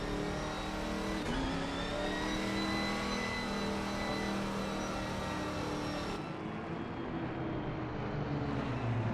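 GT4 race cars in a sim racing game pull away from the grid together, a steady blended engine drone with rising revs and a shift partway through, loud and continuous with no voices.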